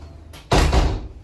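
Front door of an apartment building swinging and closing once with a loud, near thud after a brief soft rustle, then a lingering rattle as it settles.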